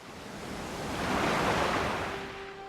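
Sea waves wash in a steady surge of broad, airy noise that swells toward the middle and eases off again, with no voices over it.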